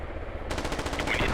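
Rapid automatic enemy gunfire in the video game MARS: Scarlet Storm Rising erupts after a brief quiet moment and keeps rattling in a dense, steady burst of shots at moderate loudness.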